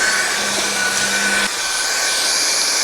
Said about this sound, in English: I am really impressed with the stick vacuum, especially being that it is all powered by this battery here.